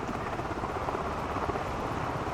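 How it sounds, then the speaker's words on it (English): Rotor thump and turbine whine of an Airbus H160 helicopter in a flight simulator game, a steady, loud, continuous drone with no talk over it. "There's two helicopters slightly merging backwards and forwards, which is a bit odd."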